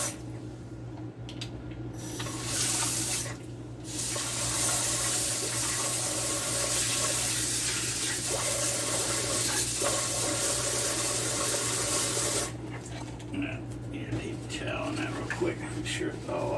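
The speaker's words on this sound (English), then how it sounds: "Let me wash that off real quick." Water runs from a kitchen tap to rinse peanut butter off a utensil, a steady broadband rush lasting most of the time with brief breaks, while a person talks over it.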